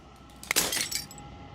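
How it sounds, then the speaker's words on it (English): Glass shatters in the video game Slay the Princess: a sharp break followed by a brief spray of tinkling fragments, fairly faint and alone, fading within a second. "As the final fragment of glass shatters"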